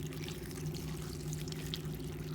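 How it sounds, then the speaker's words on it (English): Water pours steadily over salted cabbage in a container to make kimchi brine, a continuous close splashing trickle with a low hum beneath, no voices. "now we're going to add just enough water to cover the cabbage, and this is going to be the brine for the cabbage"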